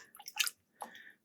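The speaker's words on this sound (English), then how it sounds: "I'm going to go ahead and give it a nice stir here." Dye water with Jacquard acid dye sloshes and swirls as it is stirred in a pot, two brief soft splashing strokes separated by a short gap, close and quiet.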